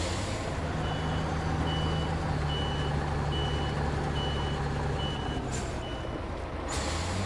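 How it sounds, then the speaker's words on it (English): European cab-over highway truck in the video game SnowRunner, a steady loud engine drone with repeated reversing beeps pulsing over it and a brief air-brake hiss near the end. "it's very like a sort of European truck with a sort of cab over highway truck"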